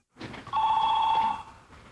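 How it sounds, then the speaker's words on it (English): A telephone rings at a veterinarian's office, a single loud, close electronic trill lasting about a second, with no voices over it. "Phones have been ringing off the hook at this veterinarian's office."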